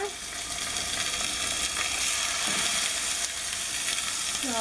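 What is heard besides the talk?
salmon searing skin side up in a hot pan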